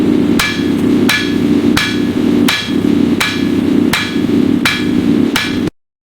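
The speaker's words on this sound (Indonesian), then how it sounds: "setiap kali palu menghantam besi membara di tanah Banten" A hammer strikes red-hot iron at a Banten forge where golok machetes are made, landing about eight loud, evenly spaced blows, each a sharp ringing clang with a short decay, then abrupt silence.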